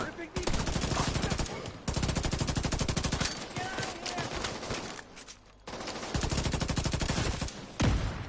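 Sustained automatic gunfire from a gun in The Division 2 rattles in long rapid bursts separated by brief pauses, loud and close, with no talking.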